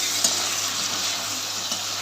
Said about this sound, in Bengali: ডিমের আলু মশলা একসাথে কষে নিচ্ছি ভালো করে